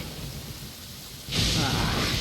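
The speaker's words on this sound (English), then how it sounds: "Uh-oh! Lightning storm!" Thunderstorm in the video game Genshin Impact: a quiet rumbling bed suddenly swells at mid-clip into a loud, broad crash of thunder with rushing rain-like noise that sustains to the end.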